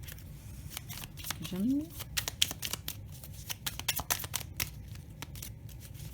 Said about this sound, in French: je tire toujours ma petite carte de la corde Toltec